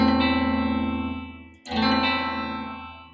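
A distorted electric guitar chord with the open high E string rings out with effects, sustains and fades, then is struck again midway and rings on.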